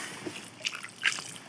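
Boiled water tipped out of a pot outdoors on a mountain summit at night, a few quiet splashes and drips over a faint hiss.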